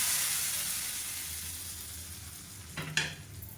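Mustard seeds, cumin and curry leaves sizzle in hot ghee for a tempering, a steady close frying hiss that slowly eases off, followed by a couple of sharp stirring clanks near the end.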